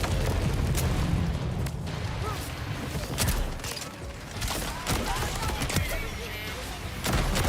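Dense gunfire rattles in the Borderlands 4 video game, loud, continuous bursts and booms packed together with barely a pause across the whole stretch.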